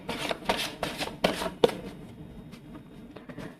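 Tarot cards being shuffled and drawn, a quick series of soft riffling flicks and slaps close up, then quieter handling.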